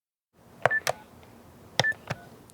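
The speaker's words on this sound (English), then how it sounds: "8-year-old Piper Morse picks up a phone to call a friend" Touch-tone phone dialing on a home landline in a kitchen, four short electronic tones keyed in two quick pairs, close and clean with no voices.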